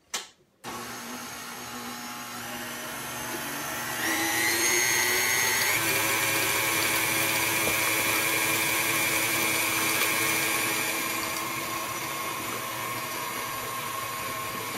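Stand mixer fitted with a paddle beating gluten-free bread dough, a steady motor whine that starts abruptly, then rises in speed and pitch after a few seconds and holds loud and continuous.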